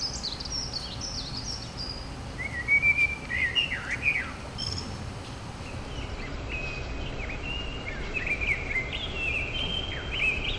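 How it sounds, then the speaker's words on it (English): Dunnock and blackbird song outdoors: bright chirps and fluted whistled phrases repeated in bursts over a steady background hiss, fairly close and moderately loud. "Dunnock, an unknown blackbird."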